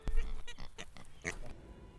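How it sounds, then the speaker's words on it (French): Pigs lodged in a rabbit enclosure grunt and snort in a rapid cluster of short, close oinks, then fall quieter. "Ils ont squatté le lapinodrome des lapins, les cochons."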